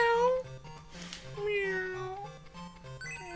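A person's voice imitates a cat with drawn-out, wavering meows, several in a row, fairly close and moderately loud while playing Sonic 2 on the Game Gear.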